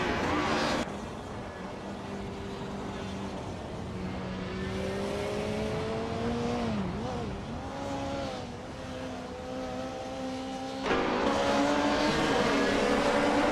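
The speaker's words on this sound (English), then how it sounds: "Balsamic Vin 283 is driving a 1988 BMW 635 CSI." A 1988 BMW 635 CSI racing in a video game, its engine note climbing and falling through gear changes with brief tire squeal, steady and continuous as the car laps.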